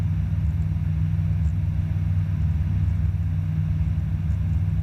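A light aircraft engine drones steadily and loudly throughout a flight lesson at Edenvale Aerodrome, a dense low hum with no break and no voices.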